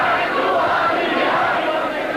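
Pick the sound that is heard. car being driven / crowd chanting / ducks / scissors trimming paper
crowd chanting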